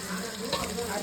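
Onions frying in oil in a pot of Chettinad chicken curry; the oil was previously used for frying kebabs. A steady, dense sizzle crackles continuously and close up, with no pauses.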